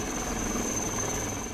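An army rescue helicopter over floodwaters roars as a steady, dense rotor-and-engine wash with a thin high whine, continuous and close throughout.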